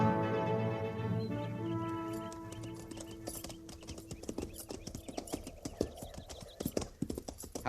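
Cavalry horses' hooves clip-clopping on the frontier trail in a radio drama, a steady rhythmic clatter that grows busier and more prominent after an opening stretch of music.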